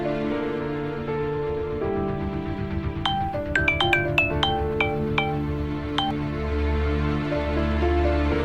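A melodic electronic ringtone plays a run of bright, quick chiming notes over steady background music, fairly close and clear.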